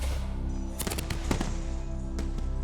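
A professional pyrotechnic fireworks show, with rapid crackling bursts and sharp booming reports firing in quick irregular clusters over a steady low rumble, loud and close with no talking.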